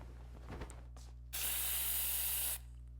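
A sleeping gas spray in the video game AI: The Somnium Files, a single loud, steady hiss lasting just over a second, preceded by brief scuffling and soft thuds.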